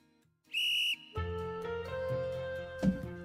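A whistle blows in a visual novel video game, a sharp tonal blast that stops after about half a second, followed by bright sustained game music with a steady beat.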